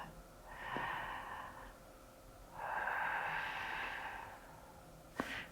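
Deep breaths during a yoga session: two long, airy exhales come close and alone, the first about a second long, the second longer and steadier, followed by a short sharp sniff at the end.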